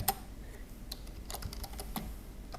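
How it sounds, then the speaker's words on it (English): A computer keyboard tapped at close range, a quick uneven run of light key clicks typing a name, with short pauses between bursts. "I'm going to type your name here"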